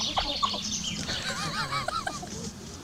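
A hen squawks and clucks after a rooster mounts her, with several ragged, honking cries coming in quick bursts close by, with no talk.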